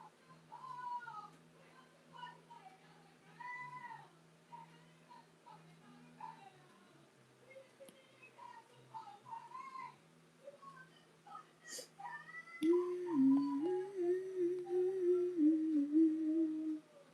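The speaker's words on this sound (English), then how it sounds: "So he's a white cat." A white cat named Shiro lets out several meows, with a longer, louder drawn-out cry near the end, while a voice is heard nearby.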